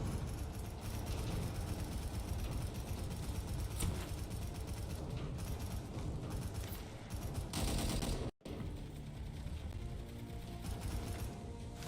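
Rapid gunfire rattles almost without a break for about twelve seconds in the Angels Fall First video game, a dense mechanical clatter of shots with one sudden brief silence near the end.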